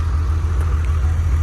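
The air-cooled engine of a 1995 Porsche 911 of the 993 generation runs with a steady, loud, low rumble, heard briefly and continuously.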